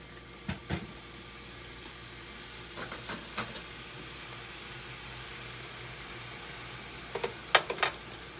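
Wild boar pork frying in a little oil in a pan on medium-high heat gives a soft, steady sizzle, with a few sharp clatters and scrapes near the start and again near the end.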